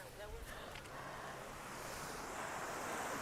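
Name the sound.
ocean waves breaking on the shore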